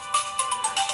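Startup song of a Zopo ZP980 smartphone, a short bright electronic melody of several quick rising tones from the speaker, clear and alone.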